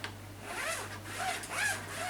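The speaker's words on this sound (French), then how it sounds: "Là, c'est une pochette à fermeture éclair." A zipper on a gear pouch is drawn open in a continuous rasping run of about two seconds, close to the microphone, with a slight hum underneath and no talking.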